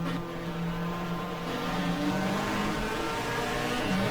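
Race car engine in the GTR2 racing game at Winton, shifting down to second gear, a loud continuous engine drone with shifting pitch that holds steady throughout.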